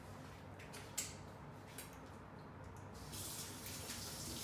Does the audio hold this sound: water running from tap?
yes